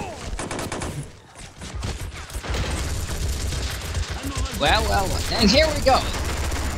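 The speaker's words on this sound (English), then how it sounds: "Plenty of machine guns here." Rapid machine gun bursts crackle through a battle in Army Men: World at War, dense and continuous under steady background rumble, with someone talking over the gunfire.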